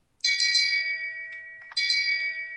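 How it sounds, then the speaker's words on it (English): Two loud, ringing strikes of a Game of Thrones shame bell play from a phone app. Each bright clang decays slowly, and the second comes about one and a half seconds after the first, with nothing else audible. "It's like I got like a bell app for the Game of Thrones bell from season 5, episode 10."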